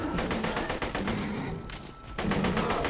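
Enemies fire on the player in Borderlands 2, a loud rapid stream of gunshots that pauses briefly, then starts up again.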